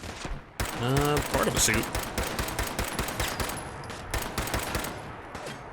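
Exploding bullets fire in Fallout 4 combat: rapid sharp bursts and cracks crowd together in dense volleys, loud and close, with a voice speaking briefly partway through.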